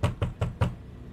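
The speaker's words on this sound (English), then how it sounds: "I can tell you there's a knock at the door and it's Rick." Four firm knocks on a door land in an even, quick rhythm, close and distinct, followed by a short stretch of quiet room tone with no voices.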